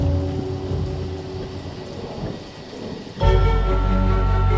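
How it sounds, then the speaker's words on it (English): Rain falls steadily in a thunderstorm, thunder rumbling underneath, before a sudden loud crack and roar of thunder breaks in near the end and keeps booming heavily, with no talk. "Thunder and lightning"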